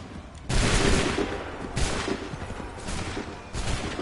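Musket volleys in Assassin's Creed III Remastered, three separate crackling fusillades of massed shots, each a sudden loud burst that rumbles and fades before the next, with no voices.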